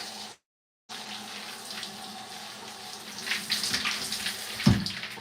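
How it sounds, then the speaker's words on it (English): Steady running water from a tap pours while hair is rinsed, a continuous close hiss that thickens and splashes more unevenly toward the end, with a brief dropout near the start and no talking. "First, I'm gonna kind of rinse it,"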